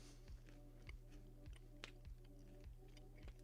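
Skittles candy being chewed close to the mouth, with soft repeated crunchy, sticky bites in a steady rhythm over a low constant hum, quiet overall.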